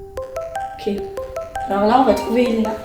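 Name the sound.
mobile phone ringtone ringing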